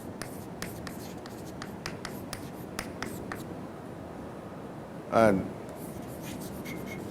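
Chalk or marker scratches across a board in a lecture hall, a string of short, quick strokes with a sharper knock near the end, faint and close, alongside a lecturer's voice.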